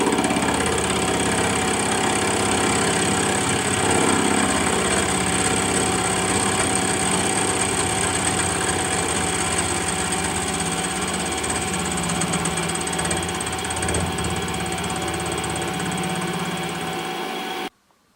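A milling machine makes very light, tiny cuts across the bevels of cast jaws, giving a steady, loud mechanical hum and whine that runs almost unchanged for the whole stretch before cutting off abruptly at the end.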